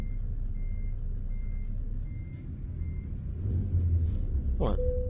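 Evenly spaced reversing beeps from a truck backing up in Euro Truck Simulator 2, steady and moderately loud over a low engine rumble, with a hiss of air brakes near the end.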